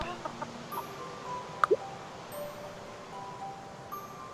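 A video game chicken named Big Peep in Dungeon Delver gives a brief pair of soft clucks over a quiet, steady game background.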